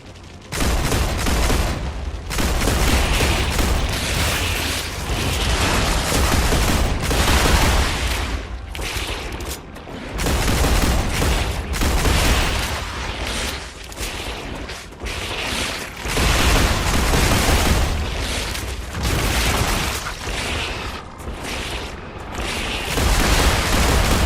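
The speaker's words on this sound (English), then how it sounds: "Oh, bombs." Bombs exploding during a firefight in the sci-fi survival game Star Rupture, dense rolling blasts and bursts of gunfire packed together, loud and continuous for the whole stretch with only brief dips.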